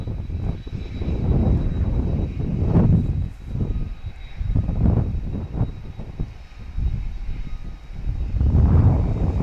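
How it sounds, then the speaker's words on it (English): A Boeing 737 MAX 8 jet airliner on approach to land at Dallas Love Field roars steadily overhead, its engine noise swelling and fading in broad waves, loud and sustained with no talk over it. "So we'll see if this MAX 8 lands on the south runway or this runway"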